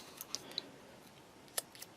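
Scissors snipping carefully around an emblem on a sticker sheet for a Tamiya 1/12 Yamaha YZR-M1 model kit, a few faint, sharp, isolated clicks spaced irregularly over quiet room tone.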